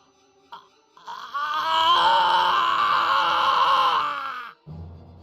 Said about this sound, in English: Eel's scream rings out.